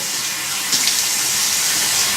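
Water runs steadily from a bathroom tap while a face is rinsed. The broad, close hiss holds continuous, with faint splashes in it.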